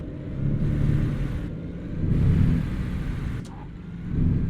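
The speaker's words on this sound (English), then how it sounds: "That engine brake was up so high." A heavy truck's engine brake in American Truck Simulator, a loud, steady low rumbling drone that swells and dips across the stretch, with no talk over it.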